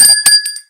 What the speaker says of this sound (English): You can ring the bell for both of you.